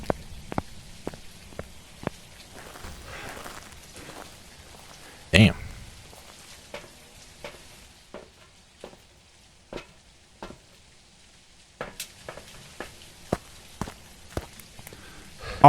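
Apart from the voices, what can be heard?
ghost footsteps in the video game Phasmophobia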